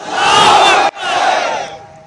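A large rally crowd roars a slogan in unison as a call-and-response, a loud sustained collective shout that breaks off briefly and then rises again before fading.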